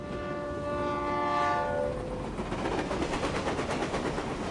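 A train in the Path to Nowhere video game passes with a loud sustained horn blast that fades after about two seconds, followed by steady rolling rail rumble and rhythmic clatter, with no speech.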